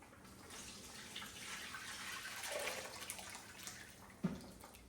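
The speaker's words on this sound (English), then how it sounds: "now we're gonna take and pour it through this strainer and let the greasy water go on" Greasy water from cooking pork skin poured through a metal strainer, a steady soft splashing stream that runs throughout, with a brief sharper spatter near the end and no talk.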